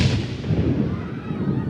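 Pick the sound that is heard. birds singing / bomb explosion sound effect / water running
bomb explosion sound effect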